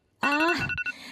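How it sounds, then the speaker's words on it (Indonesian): Loud morning alarm ringing in one short, bright, tonal burst. "Alarm keras mencoba membangunkanku."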